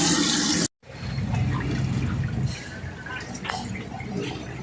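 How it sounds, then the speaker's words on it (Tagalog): Water flows steadily from an opened faucet fed by a household water pump that keeps cycling on and off. A loud, close, continuous rushing hiss follows a brief cutoff, with faint splashy ticks in the stream. "Buksan natin itong kanyang faucet."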